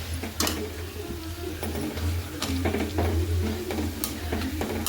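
Curry sizzling and frying in a pan, a constant close crackle with occasional stirring clicks and a low steady hum underneath.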